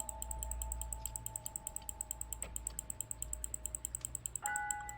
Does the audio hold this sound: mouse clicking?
yes